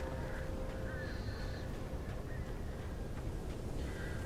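Crows cawing in the video game Alan Wake Remake: several distant, raspy caws repeat over a steady rumbling background.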